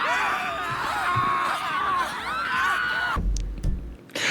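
Screaming in a GTA chaos mod game session, several overlapping high wavering screams held loud and continuous for about three seconds, then breaking off into low rumbling and a few short cries.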